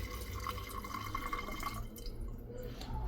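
Fluid being poured into the reservoir of a machine on a gasoline BMW engine, a steady close trickle and drip of liquid that runs for a few seconds and then thins out.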